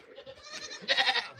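Goats on a homestead bleating close by, a wavering nasal cry that builds into a louder, strained bleat toward the end.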